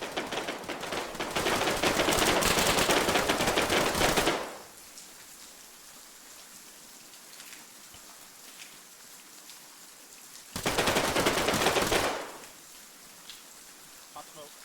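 Sustained automatic gunfire in the military shooter Arma 3, two loud bursts of dense rapid crackling separated by quieter background, with a player talking over the action.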